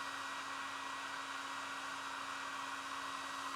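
A hair dryer blows steadily to dry fountain pen ink artwork. Its airy whir and motor hum run constant and close for the whole stretch, with no talking.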